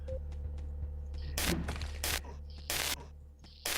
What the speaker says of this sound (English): A revolver is okay. If I manage to land the shots.